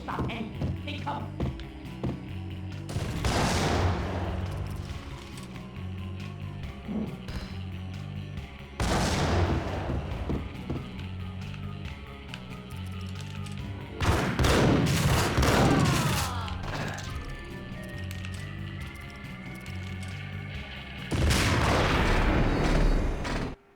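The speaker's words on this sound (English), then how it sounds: "Oh, that guy had a rocket launcher?" Rocket launcher explosions and gunfire in the shooter Max Payne, with four loud broadband blasts spaced several seconds apart over a steady rumbling game backdrop, with someone talking between bursts.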